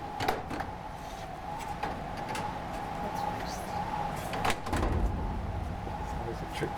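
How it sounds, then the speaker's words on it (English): Metal museum storage drawers at the Smithsonian Annex in Suitland, Maryland being pushed shut, several sharp knocks and a sliding thud among room noise, with people talking nearby. "It's always a trick getting these drawers to close."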